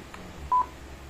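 A single short electronic button beep from a Zeus K12 mini portable Bluetooth karaoke speaker, clear and close against a quiet room.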